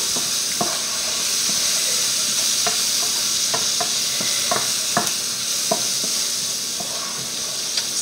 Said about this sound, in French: Là, on remue. On ajoute nos champignons.